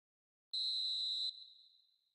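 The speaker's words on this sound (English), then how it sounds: "And there is the half-time whistle." A referee's whistle blows for half-time in the video game eFootball 2026: one clear, sustained shrill blast lasting under a second, then a fading tail, alone with no talk.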